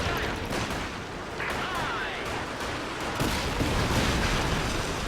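Katyusha rocket artillery fires in Company of Heroes 2, a dense barrage of launches and explosions rolling continuously under steady battle noise, loud and close, with a voice speaking over it.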